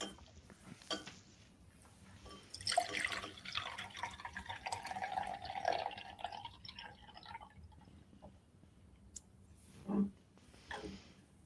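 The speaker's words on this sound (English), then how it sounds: "I'm going to tilt this beaker so that the water overflows into the smaller beaker here" Water pours and splashes from a tilted beaker into a smaller beaker, a steady trickling run of several seconds followed by a few isolated drips, close by and with no talk.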